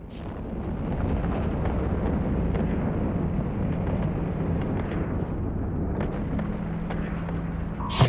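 Space combat in Eve Online, with sustained weapons fire and explosions forming a dense, continuous roar of booms and rumbling blasts, loud and steady with no voices.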